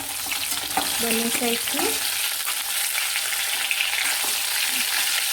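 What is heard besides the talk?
stirring stuffed parwal (pointed gourd) frying in a pan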